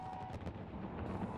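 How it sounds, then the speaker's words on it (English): New Year fireworks over Copacabana Beach in Rio de Janeiro, a dense run of booming, crackling bursts heard loud and close with no voices. "12 minutes of fireworks delighted onlookers"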